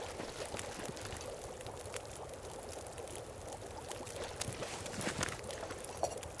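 Water poured out in the survival game The Long Dark: a faint, continuous splashing trickle that runs steadily and swells a little near the end.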